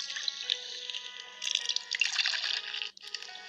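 Water being collected in a video game, a steady trickling, splashing stream with small drips, fairly close and continuous, briefly cutting out near the end.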